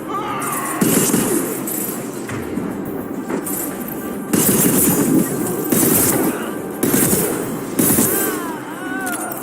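Gunfire in the sci-fi shooter game Mass Effect 2 Legendary Edition: loud bursts of weapon fire and impacts recur every couple of seconds over a continuous noisy battle bed, with voices talking in between.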